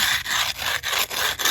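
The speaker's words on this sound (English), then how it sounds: "I'm just going to scrape it smooth" A trowel scrapes mortar smooth on a rock porch repair, four or five close, rasping strokes with brief gaps between each pass.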